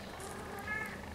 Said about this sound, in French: Lily qui miaule parce que elle a perdu un petit